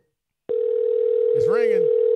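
A phone line rings out on a radio show call, a steady loud tone starting abruptly after silence and holding on, with a brief voice cutting in partway through.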